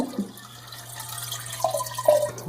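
Water drains from a toilet tank reservoir after a flush, a close, low gurgling trickle with a few brief sloshing drips over a steady faint hum, with no talking.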